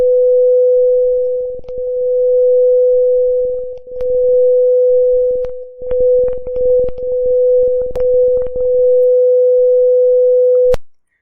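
A steady pure tone held at one pitch, loud and close, swelling and fading in intensity as the listening position shifts between interference points, with scattered clicks and bumps, ending abruptly.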